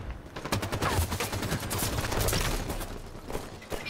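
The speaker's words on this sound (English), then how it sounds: "The assault rifle is the default weapon." Rapid bursts of assault rifle fire in a shooter video game, sustained and dense for several seconds with sharp cracks layered close together.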